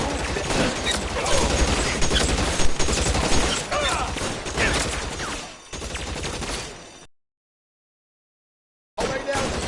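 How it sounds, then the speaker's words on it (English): Gunfire from a shootout in the video game LA Noire crackles in dense, loud bursts with overlapping reports, cutting out abruptly into a couple of seconds of silence before resuming. "I'll lay down some suppression fire"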